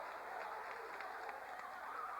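Basketball student section giving a mock Philly cheer in a high school gym, a steady broad crowd roar with scattered claps throughout, loud and sustained.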